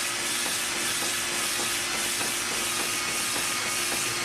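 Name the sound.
cylinder hone cutting crosshatch in Quincy compressor cylinder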